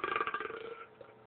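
A single drawn-out burp made into a bag, close and muffled, fading out after about a second.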